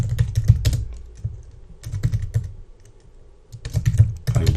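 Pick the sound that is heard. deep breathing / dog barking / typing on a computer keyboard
typing on a computer keyboard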